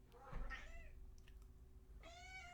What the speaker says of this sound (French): Désolée, mon chat veut de l'attention